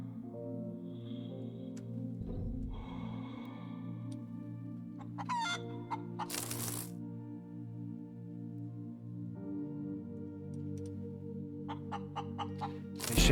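Clucking from a chicken in the space survival game Breathedge, several short bursts over a steady droning game ambience and music bed, with a few sharper rattling sounds mixed in.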